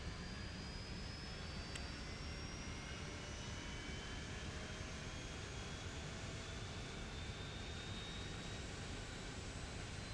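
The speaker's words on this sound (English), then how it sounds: "So the engine's going on that side" A small Eclipse jet cruises over California, its engine giving a constant, loud broadband roar with a faint rising whine running through it, steady and unbroken for ten seconds.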